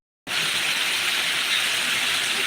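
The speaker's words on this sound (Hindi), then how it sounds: "बारिश हो रही है, भारी बारिश" Heavy rain pours down in Ambedkar Nagar, starting abruptly from silence into a dense, loud, continuous hiss of downpour that stays steady throughout.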